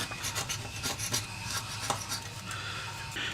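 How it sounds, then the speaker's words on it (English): Excess super glue being scraped off a plastic part, a close, quiet run of short rasping scrapes in an irregular rhythm with no talking. "So I'll just scrape off the excess super glue."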